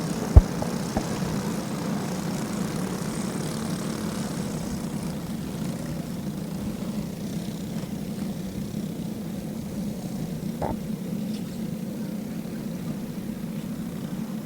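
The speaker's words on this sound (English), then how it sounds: "the engines will refire for these Junior 3 drivers out there on the speedway" Junior racing kart engines refire on a dirt speedway, a steady droning engine hum that holds constant throughout, with a sharp click near the start and a brief knock later.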